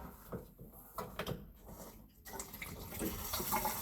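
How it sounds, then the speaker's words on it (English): Water siphons out of an air handler drain line into a floor drain, first as intermittent gurgling spurts with clunks between them, then as a steady, louder rushing flow. "Hopefully the water will siphon out down the open drain I have right now into the floor drain"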